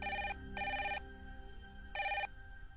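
A landline telephone rings in three loud, close bursts of an electronic bell tone separated by short pauses, with no voices over it.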